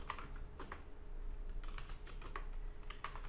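Rapid keystrokes on a computer keyboard as a command is typed in to run a Python script, a quick run of fairly close, soft clicks with short pauses between bursts, no voices.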